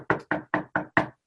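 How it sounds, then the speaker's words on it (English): Five sharp knocks on a door in a quick, even rhythm, loud and close, with no other sound around them. "There's a knock at the door."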